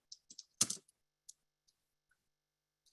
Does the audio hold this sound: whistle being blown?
no